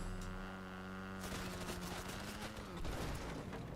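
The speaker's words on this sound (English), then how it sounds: "Mini gun, eh? Trying to rinse me." Minigun fire in Fortnite, a rapid sustained burst of automatic shots over a steady electrical hum, loud and continuous after the first second.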